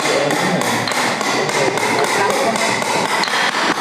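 A hammer strikes repeatedly in a steady, fairly loud rhythm, the blows close and continuous with no speech over them.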